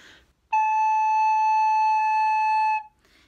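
A recorder sounds the note A with two fingers down: one clear, pure, steady whistle-like tone held for about two seconds, with quiet breathing around it and no voice.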